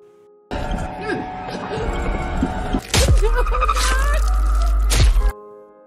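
Glass smashed during a tense horror film scene in Smile 2: two loud, sharp crashes, each followed by a deep booming rumble, over dark cinematic sound.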